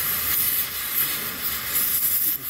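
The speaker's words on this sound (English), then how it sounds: "I'm going to get inside of here, and I just cut the bearing away" Cutting torch hissing steadily up close as it cuts away a hub bearing inside a hub knuckle, a constant bright roaring hiss with slight flutter throughout.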